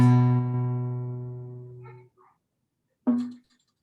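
A single guitar note on the fifth string fretted at the second fret, plucked once and left ringing clearly for about two seconds as it slowly fades, followed by a brief quiet handling noise and a short second pluck.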